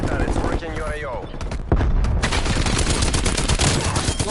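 Automated sentry turrets fire rapid, dense bursts of gunfire in a military shooter video game, loud and continuous, with a voice talking over the shooting.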